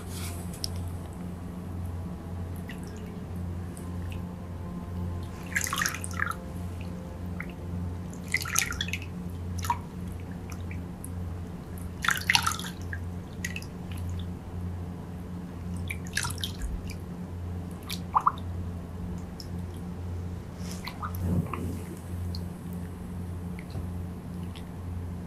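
A picture dipped into a basin of water gives scattered drips and light splashes at irregular intervals over a steady low hum, fairly faint and with no voices.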